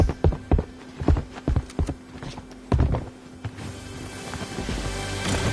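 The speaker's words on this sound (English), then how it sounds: "I hear footsteps" Footsteps in the video game Fortnite thud in an irregular series of sharp steps, fairly close, over a low steady hum.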